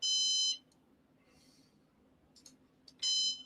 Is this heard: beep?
yes